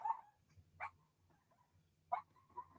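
A pet dog gives a few short, separate barks indoors, two sharp yelps spaced well apart over a quiet room with faint low background noise.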